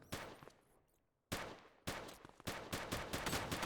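Loud, sharp gunshots ring out in quick succession, a fading burst followed by a steady volley of repeated shots, close and harsh.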